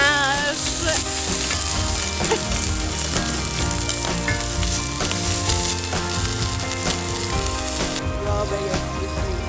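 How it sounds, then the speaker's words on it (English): A smash burger patty of rolled hamburger sizzles loudly on a hot surface at a winter camp while a spatula presses it down, with steady close frying crackle and a few scraping clinks. "I'm attempting to make a smash burger for the first time"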